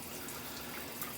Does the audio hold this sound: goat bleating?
no